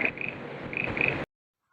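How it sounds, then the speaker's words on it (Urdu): A frog croaks in a repeated, raspy pattern, close and fairly loud, for about a second before cutting off abruptly into silence. "جیسے ہی مینڈک کی آواز سنتی"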